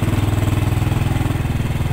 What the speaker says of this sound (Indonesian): ini kan motor udah mulai ngegerung ya guys ya. Kedengar dia tuh udah ngung